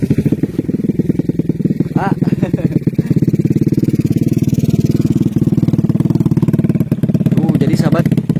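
A motorcycle on a narrow village road beside terraced rice fields on a mountain slope, its engine loud and close with a steady pulsing throb, while someone talks over it.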